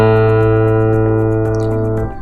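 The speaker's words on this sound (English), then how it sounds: "what you're hearing there is that string vibrate at 440 times per second." A single sustained guitar A string note tuned to 440 Hz rings out loudly with rich harmonics, holding steady for about two seconds before starting to fade slightly.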